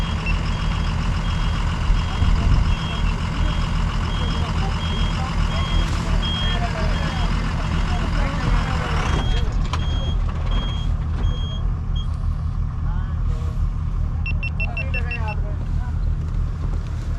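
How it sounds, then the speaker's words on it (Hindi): A stuck truck on the new Lipulekh road on the Kailash Mansarovar route tries to reverse, its engine rumbling steadily under wind and people talking, with repeated reversing beeps sounding in the latter part. "तो वो जो ट्रक फंसा हुआ है वो अब निकालने की कोशिश की जा रही है।"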